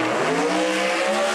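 Joel Steele's red race car roars loudly in a brief burst, its engine tone shifting slightly while a high tire squeal rides over the drone.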